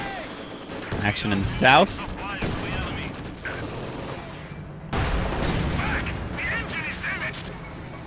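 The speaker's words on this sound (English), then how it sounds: "mortars are still plugging away at each other at any pause in the sort of tank and infantry action" Mortar and small-arms gunfire from a WWII real-time strategy game battle with tanks and infantry, a steady rumble of distant bursts and thuds running under someone commentator's voice.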